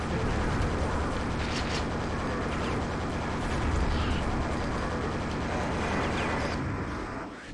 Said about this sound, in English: So I guess we had to kill all of those to open the ceiling.